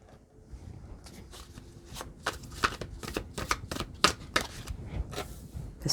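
Tarot cards are shuffled in a quiet room, a run of crisp riffling bursts and soft slaps that grow busier and slightly louder as the deck is worked, close up and with no voices.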